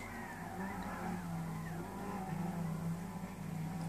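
Lexus SC450 GT500 race car in Gran Turismo 6 spinning its wheels under throttle out of the final chicane at the Nurburgring, a steady strained engine drone with tire scrubbing layered over it, loud and continuous throughout.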